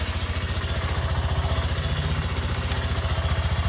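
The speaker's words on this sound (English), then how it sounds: "Start the bike up." Honda Grom motorcycle engine idling steadily, a close, even low chugging pulse with mechanical clatter, running alone without talk; the start itself is not heard.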